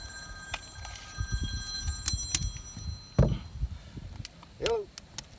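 A cell phone rings on a metal roof installation site, a steady electronic tone for about two seconds, followed by scattered knocks and taps from work nearby.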